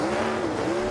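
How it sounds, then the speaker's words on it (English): A NASCAR Next Gen race car does donuts and burns down a used set of Goodyear Eagle tires. The engine drones loudly while the tires squeal in a sustained, wavering howl. "As Christopher burns down a used set of Goodyear Eagles"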